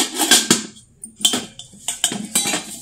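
A brass idli pot and its lid are handled, giving a run of sharp metallic clanks and clinks at an irregular rhythm, close and fairly loud, with no talk.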